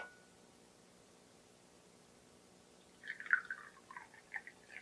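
Liquid trickles into a cup that is being filled to the top, starting after a long near-silent stretch as a soft, close burbling pour with faint drips and no voices.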